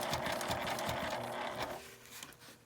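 A sewing machine stitches fabric for a zippered toilet paper case in short rapid bursts of clattering needle strikes while the cloth is slowly turned, then eases off into quieter mechanical noise.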